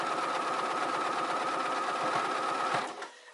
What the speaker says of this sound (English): we're going to just go ahead and finish top stitching the rest of this all the way around